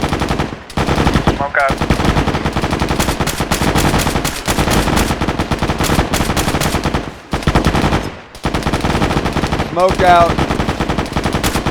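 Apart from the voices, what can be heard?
machine gun fire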